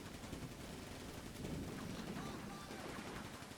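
Light machine gun bursts and rifle shots crackle continuously in a Combat Mission wartime battle, dense, distant-sounding fire forming a noisy fusillade with no speech.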